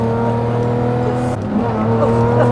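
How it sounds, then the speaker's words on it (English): A 2005 Lamborghini Murcielago drives along with its engine humming in a strong, steady tone, a brief dip midway before the revs climb again; the sound stays close and loud. "This is my 2005 Lamborghini"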